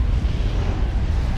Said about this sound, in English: Explosions going down.